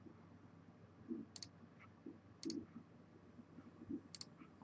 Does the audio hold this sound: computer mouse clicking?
yes